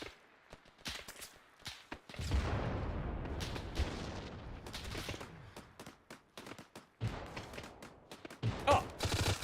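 Gunfire in the Arma 3 military shooter game: sharp rifle shots and bursts crack in quick irregular volleys, with a long rumbling stretch of heavy fire in the middle and scattered close shots around it.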